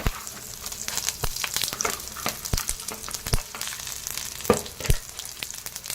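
Dried red chillies, garlic and cumin sizzle steadily in hot oil in a kadai, a dense crackling hiss broken by sharp pops and spatters, close and continuous.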